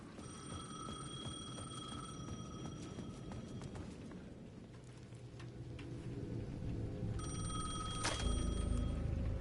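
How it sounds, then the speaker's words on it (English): A payphone in the video game Alan Wake 2 rings in repeated bursts over a steady rain-like ambience, with a louder thump near the end. "The payphone at the edge of the plaza was ringing again."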